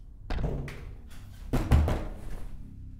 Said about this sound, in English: you're banging on the walls